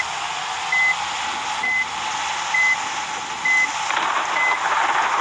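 Reversing alarm on a bus in the Bus Simulator Indonesia video game: five evenly spaced electronic beeps, each about a second apart, sound over a steady broadband engine hum.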